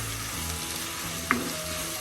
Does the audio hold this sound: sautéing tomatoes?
yes